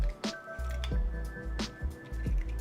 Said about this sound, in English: I'm just gonna crack 2 eggs in a bowl right here